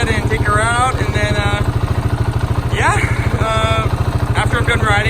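A Husqvarna 701 Enduro motorcycle engine runs at a steady, rapid thumping idle close by, loud and even, while a person talks over it.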